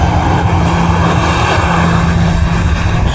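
Loud, continuous engine roar of a Juneyao Air airliner at Manchester Airport, a steady broadband rush and drone close by with no one speaking.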